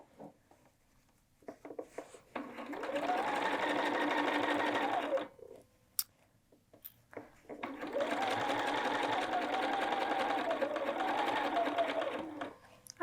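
Sewing machine stitching a hood onto a quilted jacket, two sustained runs of steady whirring separated by a short pause, close and clear with no talk.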